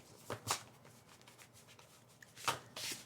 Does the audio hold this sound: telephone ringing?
no